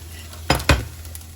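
Crabmeat kimchi fried rice is spooned from the pan into a bowl: two quick, close clatters of utensil against cookware in a quiet kitchen.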